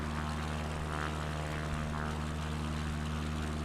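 A slow propeller plane drones steadily while cruising over desert and sea near Oman in Flight Simulator 2020, a constant loud engine hum with no pauses and no talking.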